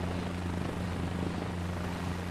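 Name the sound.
helicopter taxiing in Microsoft Flight Simulator 2024 video game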